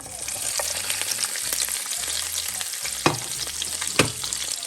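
Onion, carrots and bell peppers fry in hot oil, a steady dense sizzle and crackle running throughout with a couple of sharper pops near the end, no talking.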